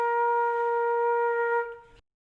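Flute sounding a single sustained B flat note, clear and steady for about two seconds before it tapers off and stops, played alone with no talk.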